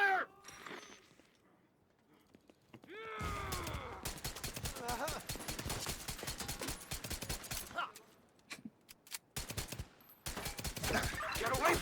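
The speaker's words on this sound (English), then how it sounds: "Opening fire!" Rapid gunfire rattles in a video game, with dense bursts of close, sharp shots broken by brief pauses. An excited voice calls out near the start, and a few yelps are mixed in.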